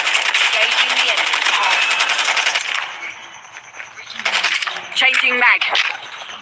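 Rapid automatic gunfire in Call of Duty, a dense metallic rattle of bursts for a few seconds, then sparser shots and clinking as voices speak over the action.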